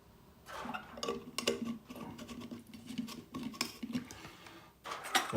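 Light metallic clinks, taps and scrapes as a metal lid and small parts are fitted onto a methylated spirit survival stove, irregular and close, fairly quiet, with no voice.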